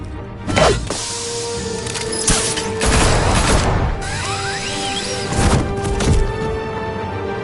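Gunfire in a Batman video game set in Gotham, a loud action scene with several sharp bursts and crashes spread over the clip, alongside whooshes and mechanical whines, no talking heard.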